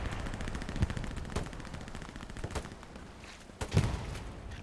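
Machine gun fire in the World War II shooter Hell Let Loose crackles in steady bursts under a constant din, with a few sharper, louder reports punching through at intervals.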